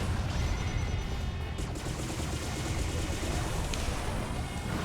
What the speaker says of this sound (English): Oh, the fucking missile